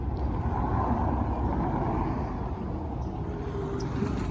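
Steady roadway traffic on the Via Appia Antica in Rome, a continuous low rumble of passing cars and buses close by with no gaps, heard without talk.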